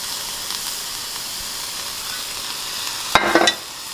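Broth hits a hot pan in a sudden sharp sizzle and hiss, a brief loud burst that rises out of a steady low kitchen background hiss and quickly settles.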